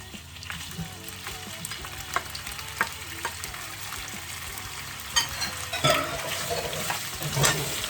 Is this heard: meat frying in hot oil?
yes